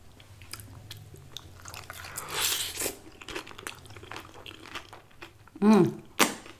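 Loaded chili cheese nachos are bitten and chewed up close: crisp crunches and wet chomping scattered through, with a louder burst of bites near the end and faint voice sounds mixed in.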